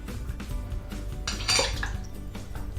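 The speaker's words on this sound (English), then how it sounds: "I'm going to grab our pan, our wok, and bring it over to our work surface" A wok lifted and set down on a work surface, with a few metallic clanks and a brighter scrape of metal in the middle, close and moderately loud, no talking.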